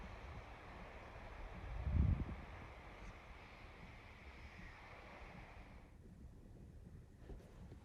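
Wind and surf on Luskentyre Beach, a freezing, very windy shore, roar as a steady broadband rush with a low buffet of wind on the microphone near the start, easing slightly toward the end.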